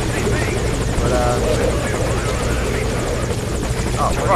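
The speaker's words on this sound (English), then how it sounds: "keep focusing fire on the chopper." A helicopter in the video game Metal Gear Solid V: a loud, continuous rotor drone and buzzing engine noise, steady and close, overlaid with game sounds and a voice talking.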